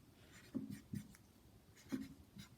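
Chalk or marker writing math problems on a board during a lesson, a few short scratchy strokes in separate bursts, fairly faint against a quiet room.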